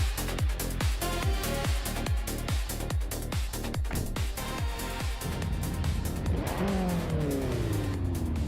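Race cars, among them a 2013 Alfa Romeo, launch at the start of a race at Daytona Beach. Rapid rhythmic engine pulses repeat loudly for several seconds, then give way to sweeping, rising revs with a touch of tire squeal.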